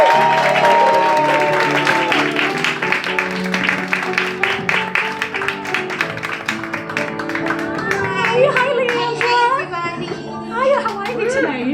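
Audience applause welcoming a singer onto a stage, steady dense clapping throughout with music playing underneath, with some voices and whoops rising near the end.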